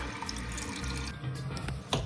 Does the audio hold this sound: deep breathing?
no